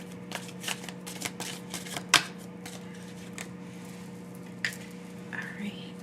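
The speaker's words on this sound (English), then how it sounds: "So I'm going to just pull several cards and get set up here" Tarot cards shuffled and pulled from a deck, a run of quick papery riffles and flicks, close and fairly soft, with one sharper snap partway through over a steady low hum.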